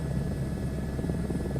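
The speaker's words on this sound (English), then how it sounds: "I do like flying the helicopters." A helicopter in Microsoft Flight Simulator 2024 drones steadily, with a continuous rotor thrum and engine whine at an even, fairly loud level with no talking.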